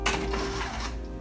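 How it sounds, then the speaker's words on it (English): An inkjet printer powers on with a short mechanical whir and a steady tone, followed by a brief clatter of internal parts, close and alone. "turn my printer on"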